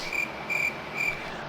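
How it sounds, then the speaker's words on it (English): Crickets chirping in three evenly spaced, bright trilling bursts, steady and moderately close, with no voices. "I hear the crickets."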